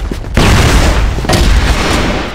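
Loud gunfire bursts from a shooting video game, with a sharp broadband report near the start and another about a second later, each trailing into dense rumbling combat noise with no speech.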